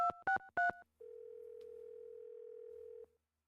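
Three short telephone beeps followed by a steady two-second dial tone, clean and close, in a Nancy Drew video game phone call.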